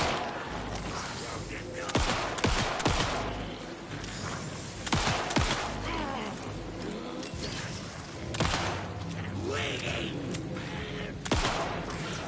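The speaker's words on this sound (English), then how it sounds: "Why are they taking so many shots?" Repeated gunfire in the video game Alan Wake 2 rings out as sharp shots in irregular bursts, some close together, over a low game soundscape, with a voice talking in between.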